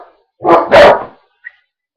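Dogs give two loud, close barks in quick succession, followed by a brief faint yip a moment later, with silence around them.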